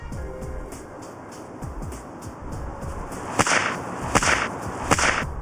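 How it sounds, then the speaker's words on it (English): A whip cracks several times, sharp loud snaps coming in quick succession toward the end after quieter swishing and handling noise. "Watch this high-speed video of a whip being cracked."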